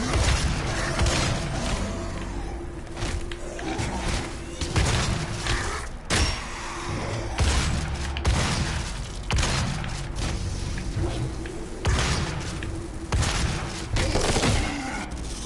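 Shotgun blasts in Doom (2016) boom out repeatedly over dense, loud combat noise, heavy thuds and explosions that keep coming without a pause.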